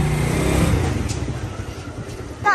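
A motorcycle carries a rider and a small girl as passenger, its engine a steady low rumble close by, with wind noise and a brief louder burst at the end.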